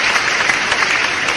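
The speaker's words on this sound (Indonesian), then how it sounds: "Tepuk tangan dong kawan. Oke. Tepuk tangan dulu." Loud, dense applause from the audience at a stand-up comedy show, a steady wash of clapping that stays even and close from start to finish.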